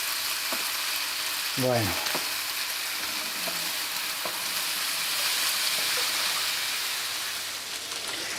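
Zucchini and other vegetables fry in a pan with a steady, dense sizzle and crackle throughout, while a voice speaks a brief word partway through.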